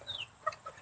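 Chickens in a backyard chicken pen let out a few faint, brief clucks and chirps, heard close by for under a second with no voices.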